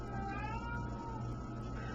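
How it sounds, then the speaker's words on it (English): A pet cat whines in a drawn-out, wavering meow that rises and falls across two seconds, quiet and a little distant over a low steady room hum, with no talking. "I do not know why my cat is whining."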